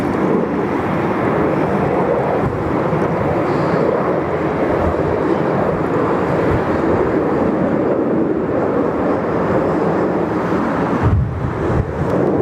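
A Qantas airliner arriving from Paris via Perth at Sydney Airport makes a continuous loud jet roar blended with heavy wind noise, steady throughout with a brief dip near the end.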